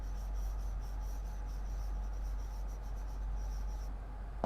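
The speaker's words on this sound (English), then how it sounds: "I am writing it here now" Pen writing numbers by hand on paper during a maths lesson, close continuous scratchy strokes with brief pauses, over a steady low hum, ending with a small tap.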